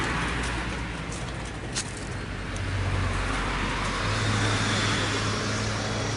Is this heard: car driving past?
yes